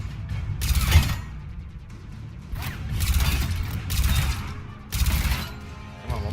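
Gunshots in the video game Mass Effect 3: several separate bursts of gunfire, each a sharp blast with a short tail, spaced about a second apart over quieter game ambience.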